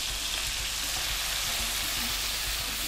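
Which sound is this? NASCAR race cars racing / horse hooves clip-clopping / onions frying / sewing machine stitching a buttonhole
onions frying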